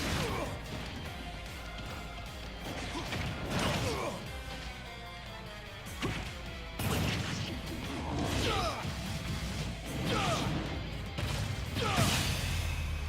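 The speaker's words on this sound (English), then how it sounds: "how about that for a final boss fight in a Smash Brothers video game, in a fighting game, fighting Dracula as one of the Belmonts in his castle" Dracula boss fight in Super Smash Bros Ultimate inside his castle, played as a Belmont: a steady run of smashes, whacks and whooshing hits over game music, repeated loud impacts every second or two.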